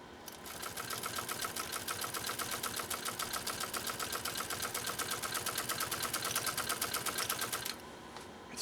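A Pfaff 130-6 sewing machine straight-stitches through cowhide in one steady run, its rapid even chatter of needle strokes loud and close, then stopping at the end.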